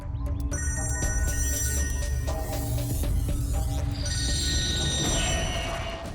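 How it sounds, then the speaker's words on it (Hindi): A telephone rings with a bright, repeating electronic tone over a dense, steady wash of background noise and hum, in a TV crime drama scene. "आ दया, मुझे मालूम है तुमने फोन किया है।"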